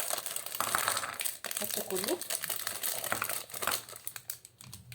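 A plastic Oreo cookie packet crinkles and rustles as it is emptied, with a steady run of crisp crackles under a nearby voice speaking.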